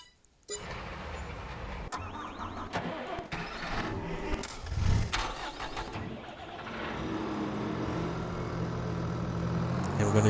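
A Kubota M8 tractor engine in Farming Simulator 22 cranks and catches, then settles into a steady mid-pitched idle, with a voice speaking over it.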